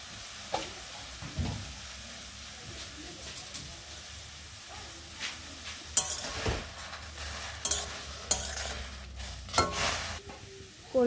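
Jute leaves (pata xaak) go into a pan with water and homemade khar and are stirred, giving a soft sizzle under scraping and clattering stirring strokes, with scattered louder knocks against the pan.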